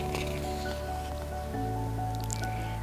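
Water bursting through a door and flooding into a laboratory, heard as continuous wet squishing and dripping layered over a steady tonal background, with a shift in texture partway through.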